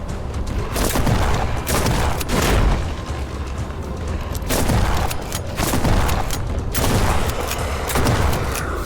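Shotgun fire in the horror video game Sound Mind, a dense barrage of heavy booming blasts and rumbling impacts repeating every second or two, loud and continuous with no pauses.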